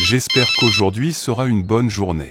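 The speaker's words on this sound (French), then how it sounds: "C'est mon téléphone." A mobile phone rings briefly with a short tonal ringtone, partly buried under someone speaking French close to the microphone.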